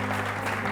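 A church congregation applauds during a sermon, a dense, steady burst of clapping filling the brief moment.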